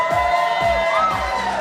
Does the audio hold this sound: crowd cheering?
yes